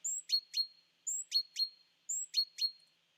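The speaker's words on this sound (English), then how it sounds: "So here's the bird isolated." A small bird's isolated call, three identical chirp phrases each made of a quick pair of sharp high notes, repeating at an even pace against clean silence.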